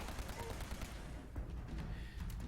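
Continuous rapid automatic fire from the Acceptable Overkill weapon in Fallout 76, a dense, loud stream of shots with a brief dip partway through.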